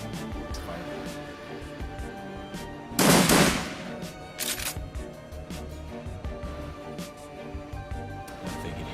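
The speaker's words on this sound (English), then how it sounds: "I'm gonna try the shotgun." Shotgun fire in the video game Shadowrun: Dragonfall, a single loud blast standing out from a busy layer of game music and effects, with a few softer clicks and hits after it.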